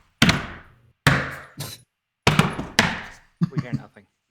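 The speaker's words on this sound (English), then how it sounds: "they're still thumping away at the door" Heavy thumping on a door plays as a sound effect: loud, booming knocks arriving in irregular clusters, two single blows then a pair, followed by a softer rattling flurry.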